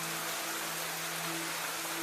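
Steady rain falls in a forest, a dense even hiss with a low continuous tone beneath, constant and unbroken with no voices.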